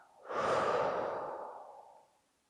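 A single slow, deep breath during a guided sophrology relaxation session for stress management, a soft airy inhale swelling into a long, gradually fading exhale, close and alone.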